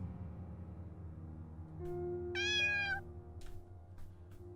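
A single drawn-out cat meow rises clearly in the Darkest Dreams video game, over a low ambient drone, followed by faint soft clicks.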